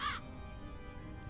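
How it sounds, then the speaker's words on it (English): Crow calling in a backyard: one short harsh caw at the very start, fairly near, then only a low background hum with a faint chirp near the end. "there are crows constantly in Drake's backyard"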